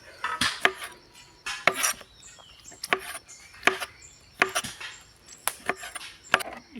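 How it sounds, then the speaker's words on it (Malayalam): A knife cuts two small tomatoes lengthwise on a cutting board, giving about a dozen sharp, close chops in an uneven rhythm with quiet gaps between them. "2 ചെറിയ തക്കാളി ഇതുകൂടി ഒന്ന് അരിഞ്ഞെടുക്കാം. ഇതുപോലെ നീളത്തിൽ കട്ട് ചെയ്തെടുക്കാം."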